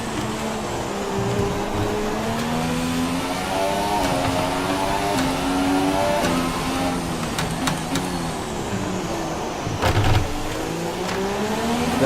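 A McLaren Formula 1 car in the F1 2017 racing game at the Azerbaijan circuit, its high-pitched engine rising and falling through gear changes and revs, loud and close from start to finish with a brief burst near the end.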